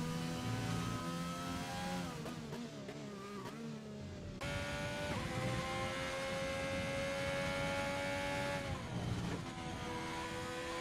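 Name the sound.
Nissan GTR race car engine in a racing game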